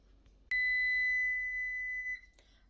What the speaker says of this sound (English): the timer has went off